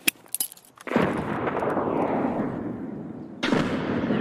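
Escape From Tarkov gameplay: a few sharp gunshots crack out, then a loud grenade explosion booms and rolls on, followed by another burst of blast noise near the end.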